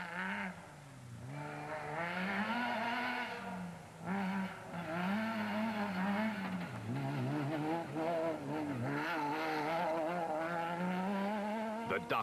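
Rally race cars on a dusty off-road route at the 2008 Sugarbelt 400 drone close by with revving, wavering engine pitch that rises and falls through gear changes, one roaring past after another.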